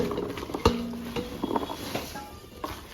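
Mango pieces stirred into a salt and chilli pickle spice mix for avakaya, soft scraping and wet clicking of a spoon against the vessel, faint and irregular, with a few sharper knocks.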